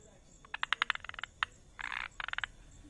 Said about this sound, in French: les grenouilles planeuses de Malabar se reconnaissent à leur cri unique